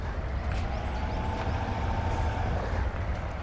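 A heavy truck engine at full power in Spintires: MudRunners, a loud, steady, low diesel roar sustained throughout with no talk.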